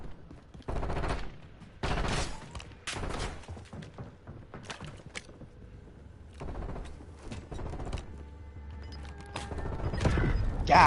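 Gunfire in the video game Warzone: repeated bursts of automatic fire and single shots at varying distances, some sharp and close, others more muffled, spread irregularly across the stretch.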